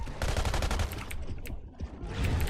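Rapid bursts of gunfire in a video game as players shoot at a shark underwater, dense overlapping shots filling most of the moment with a brief lull before the firing resumes.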